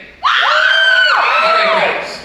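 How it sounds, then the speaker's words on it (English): A puppet show audience at Knott's Scary Farm lets out one loud, sustained scream, many voices rising together and fading after about two seconds. "One more scream."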